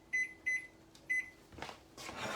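An oven timer is set in a home kitchen with three short, sharp electronic beeps at uneven intervals. Rustling and clattering handling noises follow close by.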